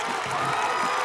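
A high school football stadium crowd cheering during a late fourth-down play, a brief, steady roar of many distant voices.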